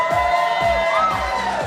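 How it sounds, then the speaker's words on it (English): Crowd cheering and whooping inside the Moerlein Lager House during a racing show, a dense, steady roar of voices at close range with no clear speech standing out. "Big crowd here tonight"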